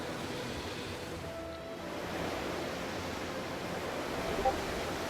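Sea serpents from the Ice and Fire mod for Minecraft 1.12.2 let out a loud, continuous rushing roar like crashing surf, steady throughout with a slight swell near the end.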